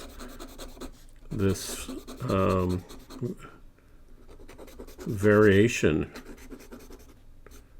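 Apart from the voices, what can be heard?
Sailor King of Pens 21K gold fountain pen nib drawing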